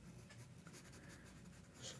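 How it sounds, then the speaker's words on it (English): A soft 2B pencil shades a shadow pattern on paper in faint, close, papery scratching strokes that run steadily with small changes in pressure. "I'll take that 2B pencil. Now I'm going to put a little shadow pattern here in the background"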